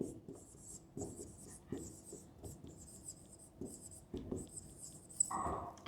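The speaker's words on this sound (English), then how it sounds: "here I am writing" A teacher writes by hand during an English grammar lesson, producing repeated scratchy pen or chalk strokes in short bursts, fairly close and moderately quiet, with a brief voice near the end.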